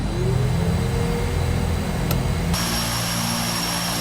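A DHC-6 Twin Otter's turboprop engine spooling up in Microsoft Flight Simulator 2020, a loud steady whine and drone with a rising tone that shifts to a higher, fuller roar partway through.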